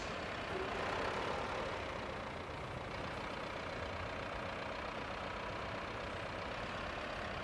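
Road-building trucks in RoadCraft rumble with a steady, droning engine idle, a constant low mechanical hum that holds even and unbroken throughout, with no talking.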